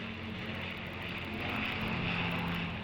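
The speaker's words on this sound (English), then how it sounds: "This is followed by a large flypast of 40 RAF planes" RAF planes in a flypast produce a broad steady engine roar that swells slightly as they pass overhead, loud and continuous without any voices.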